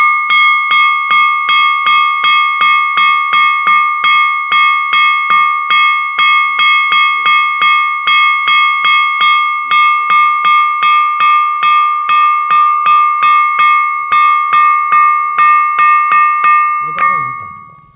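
A rock at Chhatreswara temple struck again and again, giving about thirty evenly spaced metallic bell-like rings that sustain and overlap, loud and near, with a brief voice at the very end.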